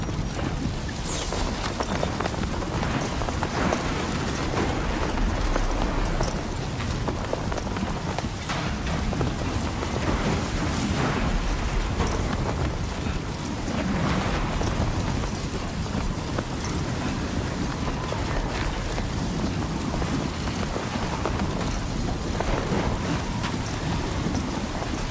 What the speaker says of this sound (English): Storm's coming through.